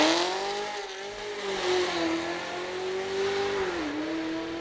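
A race car engine revs and holds a steady, loud drone at a rally start, its pitch easing down and climbing again, up close and alone without voices.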